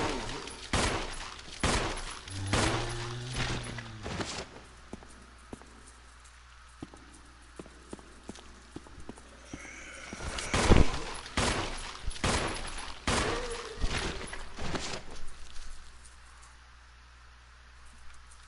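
Repeated gunshots from a firearm in the survival horror game Resident Evil Remaster, playing as Jill, firing in short bursts with sharp loud reports, scattered across the scene amid game ambience and footsteps.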